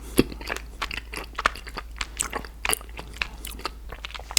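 Close, crisp crunching and chewing of strawberry chocolate, a steady run of small bites and mouth sounds heard alone at low volume with a faint hum underneath.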